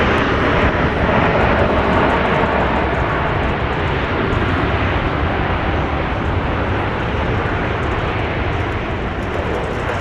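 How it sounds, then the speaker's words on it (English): Southwest Airlines Boeing 737-700 jet at Dallas Love Field, a loud, steady, broadband engine roar that stays constant throughout, close by and with no speech over it. "Well, what do you know? It's another Southwest jet."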